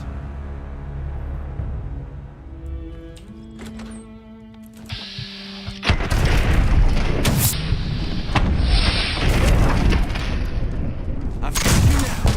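Enemy gunfire in a video game set in the Mojave: a quiet musical opening gives way after about six seconds to dense, loud bursts of shots and booms that keep going steadily to the end.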